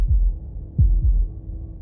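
Deep lub-dub heartbeat in the video game Slay the Princess, a low double thump heard twice, near and clear over a soft droning hum, without any voices.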